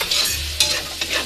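Garlic and onions, a generous amount of garlic, are stirred together in a hot pan for spaghetti, giving a close, steady sizzle broken by several sharp scraping strokes of the utensil across the pan.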